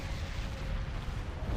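Cannon projectiles slamming into starship hulls during a space battle in Sins: Fall of Kobol, a dense rumbling barrage of booms blended into a steady roar without distinct gaps.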